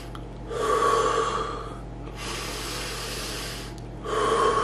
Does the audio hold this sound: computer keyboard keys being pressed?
no